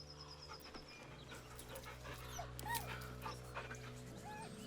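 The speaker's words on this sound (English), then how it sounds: "The dog whimpers nervously" Dog whimpering nervously in Baldur's Gate 3, a few soft high whines and yips with light panting over a quiet low ambient game drone, faint and close.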